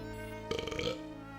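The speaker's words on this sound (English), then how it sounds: "a little bit of a victory burp" A single short, throaty burp from the Mega Drive game Alien Storm cuts in over a steady synth drone and lasts about half a second.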